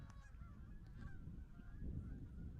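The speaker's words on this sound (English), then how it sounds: "We got another flyover from the flock of geese" A flock of geese flies over an 18U youth baseball game, honking faintly and distantly in scattered calls over a low outdoor rumble, with no talk.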